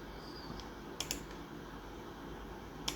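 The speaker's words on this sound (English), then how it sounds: "if you just go up here and double click that" Two quick computer mouse double-clicks, faint and close, about two seconds apart over a quiet room hum.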